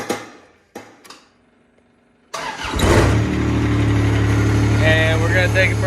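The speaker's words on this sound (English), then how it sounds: "So we're gonna get her fired up here." A John Deere 430 tractor engine cranks and fires up, then settles into a steady, loud idle with a low rumble after a few quieter knocks and handling noises at the start.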